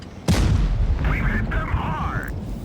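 A tank cannon in World of Tanks Blitz fires with one loud, sudden boom that rolls on as a sustained rumble, with faint whistling game effects over the tail.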